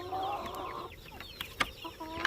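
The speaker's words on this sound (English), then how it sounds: "I think we have 5 roosters in here" Several roosters cluck and call inside a chicken coop, their fowl voices overlapping in a busy stretch at first, then breaking into scattered, shorter clucks and squawks nearby.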